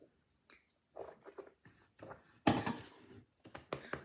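Candy being chewed and crunched close up, in short irregular bursts of wet biting and crunching separated by brief quiet pauses.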